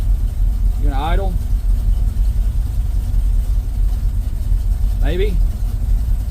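A Ford F350 pickup engine idles steadily with a low, even rumble after its fuel problem was fixed, with brief talking over it.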